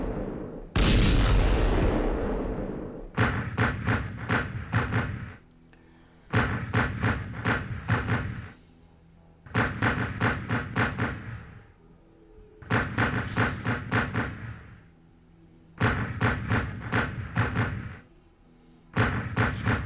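Game gunfire and artillery in the WW1 strategy game Strategic Command WW1, a loud opening blast followed by repeated bursts of rapid heavy shots, each volley lasting a couple of seconds with short gaps between.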